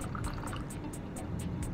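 Hot water poured steadily over Ethiopian coffee grounds, a continuous close splashing trickle with a faint regular ticking in the background, no voices.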